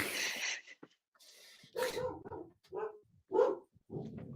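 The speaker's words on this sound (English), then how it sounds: "Dog's getting cranky." A dog gives a run of short, close barks and yips in a room, coming in irregular bursts separated by brief silences.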